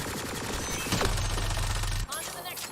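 The Hurricane gun fires in Mass Effect Andromeda as a dense, rapid stream of close shots that runs for about two seconds, then cuts off abruptly.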